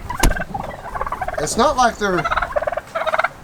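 Wild turkeys gobble repeatedly in rapid, overlapping bursts as the birds scuffle over dominance in breeding season, loud and close, with a brief spoken word mixed in.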